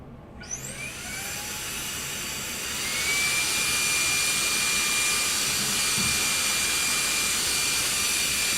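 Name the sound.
vacuum cleaner cleaning dust from a PC part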